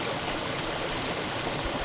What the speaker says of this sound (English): Babbling brook, little elves and fairies, little nature spirits.